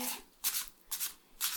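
Oracle cards shuffled by hand in three quick, close bursts of crisp papery riffling, each separated by a short pause, recorded soft and near in a quiet ASMR setting.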